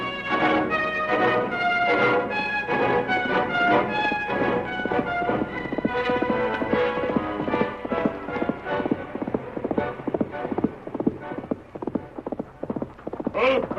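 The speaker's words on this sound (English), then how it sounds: "Called his horse Silver" A horse gallops with steady, loud, close hoofbeats in an old radio western drama, continuous throughout and becoming slightly more broken toward the end.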